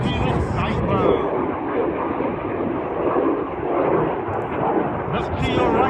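Red Arrows display jets roar past at an air show, a broad continuous jet rumble sustained throughout as the aircraft turn hard against each other, with a commentator talking over it.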